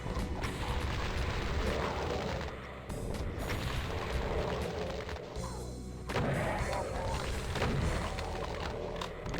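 A Baron of Hell attacks in the video game Doom, and the blasts, explosions and crashing impacts pile up in a dense, continuous, loud barrage with repeated booming hits, with no voice.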